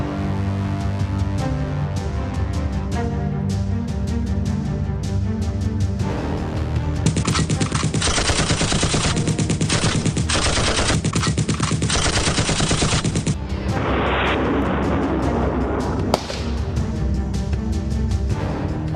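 Sustained bursts of automatic gunfire and rapid single shots from commandos in combat training in Kashmir, loud and dense, with overlapping volleys and reverberant cracks and no talk.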